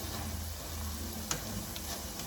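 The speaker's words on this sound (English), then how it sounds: "So we're still cooking the peppers and the onion" Peppers and onion sizzling in a pan, a steady quiet crackle and hiss with a few soft clicks of stirring.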